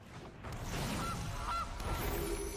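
A cartoonish goose honks twice in the MTG Arena card game as the Gilded Goose card is cast, short nasal calls over mechanical clicking and whirring game effects, with no talking.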